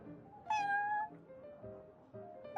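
A cartoonish cat named Prince in Genshin Impact gives several clear, close meows, with one louder drawn-out call in the middle and shorter mews around it, heard alone with no talk.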